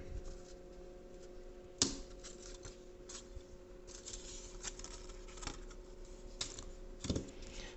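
A blade cuts a part out of a thin balsa wood sheet, with faint scratchy scoring strokes and a few sharper snaps and clicks, quiet and close, with no talk.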